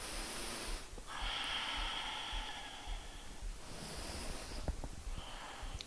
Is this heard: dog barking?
no